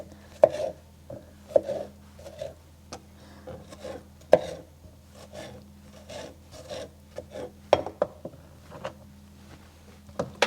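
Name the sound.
knife rough chopping tomatoes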